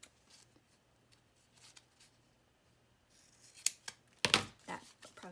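Scissors snip through book tape for an art journal, a few quiet cuts and crisp tape crackles that grow louder toward the end, with a sharp burst of handling near the close.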